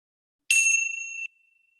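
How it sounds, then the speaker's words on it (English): A meditation bell struck once: a bright, clear ring that sustains for under a second and then stops abruptly, alone in otherwise silent surroundings. "as I ring the bell, just noticing as this vibration flows to you"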